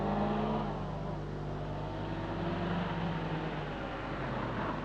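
A rally car on the final stage of the 1976 Circuit of Ireland rumbles past at the finish line, a steady loud engine drone with a low tone that changes pitch.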